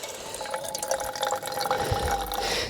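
Water is squeezed from a soft bag into a cup at a freezing wild camp in the Brecon Beacons, a close trickle and patter of liquid filling the cup with small drips, rising toward a fuller pour at the end.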